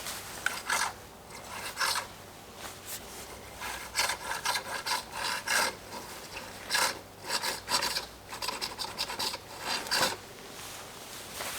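A noisy rear shock on a Specialized Kenevo mountain bike, failing after one ride, gives repeated raspy squelching and rubbing strokes in an irregular pumping rhythm, close and fairly loud, with no talking.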